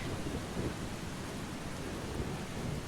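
In the video game Eastshade, a thunderstorm gives a dense, steady wash of heavy rain with a low rumbling undertone, constant and enveloping with no voices.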